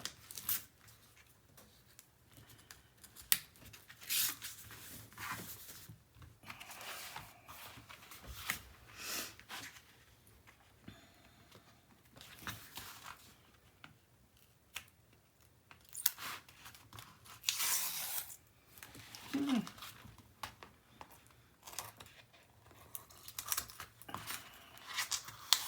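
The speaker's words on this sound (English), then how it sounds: "And then I'm going to come in here and take the rest of this tape off." Tape is peeled off a piece of an 8.5 x 10 album with a 2.5-inch spine, giving close, quiet bursts of sticky ripping and crinkly rustling at irregular intervals with no talk.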